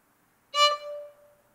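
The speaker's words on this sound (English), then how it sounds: "That echoing sound is the sound of the D resonating" A plucked violin note is cut short as the A string is muted, leaving the D string ringing on softly by sympathetic resonance, a thin tone that fades out gradually on its own.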